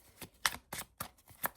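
A brand new deck of cards gets shuffled nearby in a quick series of about six crisp riffling bursts, each a short papery flutter, with no speech.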